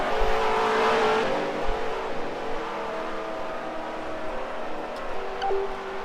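A race car engine in a Second Life dirt racing game drones loudly and steadily at first, then eases and fades a little, with shifting pitch as the car moves through the track.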